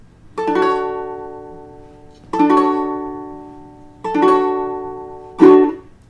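A ukulele sounds a single note on the A string at the second fret, plucked four times at a slow, even pace. Each note rings close and clear, then fades, with no voices.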